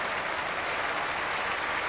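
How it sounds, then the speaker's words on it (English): A cricket crowd at the Basin Reserve during a 1997 England versus New Zealand Test applauds warmly, a dense, steady wash of clapping from many spectators heard at a distance, with no voices over it. "he acknowledges a very appreciative Basin Reserve crowd"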